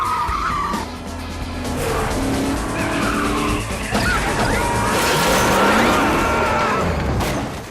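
During a high-speed film car chase, tires screech in long skids over a roaring engine, with sharp impacts and thuds mixed into the continuous, loud, close action.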